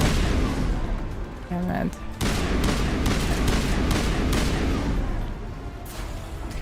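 Marksman rifle fire in Mass Effect Legendary Edition comes as dense, loud, overlapping shots and booms of combat that continue almost without pause, with a man briefly cursing over the din.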